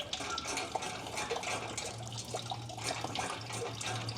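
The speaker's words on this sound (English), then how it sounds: "this radiator is not even 1/10 of the way drained" Coolant trickles and splashes steadily from the radiator of a Ford Mustang 5.0 Fox body, a faint continuous watery stream with small drips and a low background hum, no voices.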